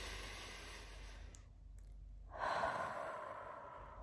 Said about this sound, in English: I stop and I take a deep breath